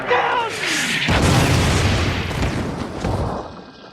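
A bomb blast from the TV series Lost: a heavy, loud boom erupts after a brief lead-in and rumbles on for several seconds before slowly fading.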